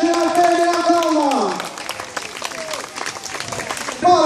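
Crowd applause greets a mountain bike rider climbing the final hill of a race, a continuous patter of clapping under a loud announcer's commentary, swelling again at the end.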